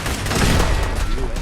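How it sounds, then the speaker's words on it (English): Turret gunfire in Fallout 4, a dense rattling burst of rapid shots running steadily through the whole moment at close range, with a dense game soundscape around it. "Ah, the turret's shooting me."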